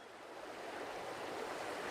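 Broad, steady rush of moving water from a river in a forest setting, continuous and fairly loud, with no voices.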